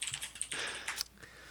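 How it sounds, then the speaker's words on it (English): Rapid, furious typing on a computer keyboard, a dense clatter of clicking keys that bursts and pauses, heard fairly faint at moderate distance. "Furious typing."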